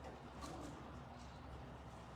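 Racing pigeons coo softly inside a loft where they are settling, a faint, low murmur of repeated coos with no voices over it.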